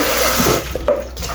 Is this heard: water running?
yes